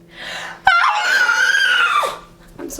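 A girl lets out a single loud, sustained scream of fright lasting over a second, preceded by a brief breathy sound, close to the microphone for a short film scene.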